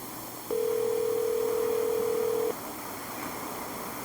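A single steady telephone ringing tone holds for about two seconds over a low background hiss, then stops.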